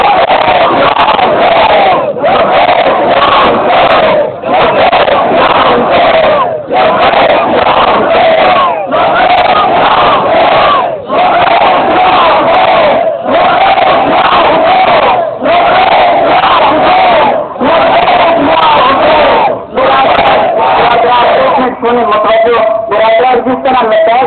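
A large crowd of mourners at an Ashura gathering in Mianwali chants in loud unison, repeating the same short call in steady rhythmic bursts with brief gaps, sustained for the whole stretch.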